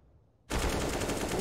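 Automatic gunfire in a Counter-Strike match bursts in abruptly after a brief quiet moment, then holds as a loud, dense, continuous stream of close shots.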